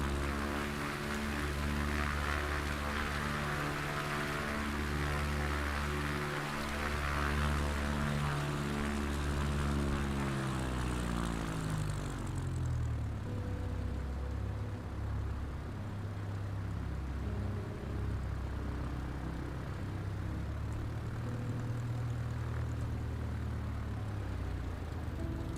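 Propeller engine of an American Champion Scout bush plane droning loud and steady throughout, its harmonic tone dropping in pitch partway through as the throttle eases back, with no voices.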